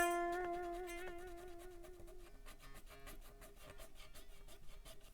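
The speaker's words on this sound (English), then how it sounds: "Listen closely to those frets. This is the non-polished one." Unpolished frets on an Epiphone Les Paul Custom guitar make a scratchy rubbing sound. It follows a fading plucked note and continues as steady, close, quiet scraping strokes with no voice.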